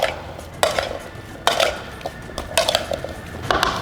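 Potatoes being tossed in a metal dish or bowl to coat them in sauce, with repeated clattering scrapes and knocks of utensils against the pan in uneven bursts, close and fairly loud.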